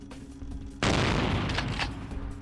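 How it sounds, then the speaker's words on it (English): Powerful weapon gunfire in the video game Vampire: The Masquerade - Bloodlines, a sudden loud broadband blast that holds as a dense, rumbling roar of rapid shots for nearly two seconds after a quieter low hum. "it's just shooting, but it's a more powerful weapon, I think"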